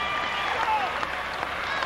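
Boxing fans at an amateur bout fill the hall with steady, dense applause and cheering at the end of a round, loud and continuous with a few whistles and shouts breaking through.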